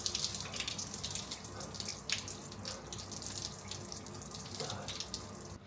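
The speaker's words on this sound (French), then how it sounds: "C'est une douche extérieure, mais attention, j'ai mis l'eau chaude." An outdoor shower runs with hot water, a steady hissing spray with irregular splashes and brief spattering bursts, fairly close and with no one talking.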